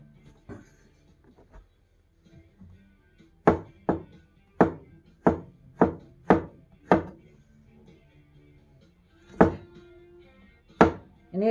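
A sharp knife cuts beef on a board for beef stroganoff, giving a rhythmic run of about seven crisp chopping thunks, then a pause and a few more strikes, close and clear.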